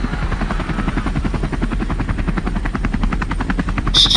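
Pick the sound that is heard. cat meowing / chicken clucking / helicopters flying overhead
helicopters flying overhead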